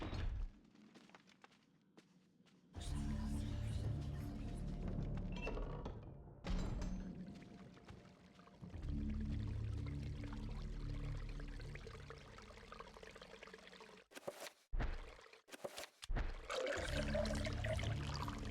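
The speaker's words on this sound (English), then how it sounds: "Dunking the urn into the foul-smelling fountain, it becomes filled to the brim with rank fluid." Pouring and trickling water as an urn is dunked and filled in a foul, rank-smelling fountain in the GameCube game Eternal Darkness, with a few dull thunks, over steady low game ambience.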